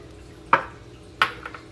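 Baking soda, salt, brown sugar and white sugar mixed into flour in a bowl, heard as two sharp utensil knocks against the dish about half a second apart, with a faint scrape after, in a quiet room.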